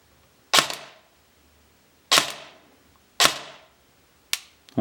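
Lonex M4 SPR airsoft AEG with an electric gearbox firing in semi-auto, four sharp separate shots spaced about a second apart, close and loud with a quick decay.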